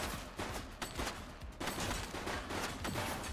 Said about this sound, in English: Shots fired! That's a police officer!